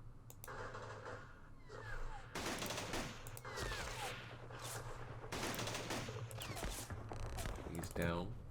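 Rapid bursts of gunfire and repeated shots from the Vietnam War strategy game Campaign Series Vietnam, at the Battle of Ap Bac, crackle steadily across the scene at moderate loudness with brief gaps between volleys.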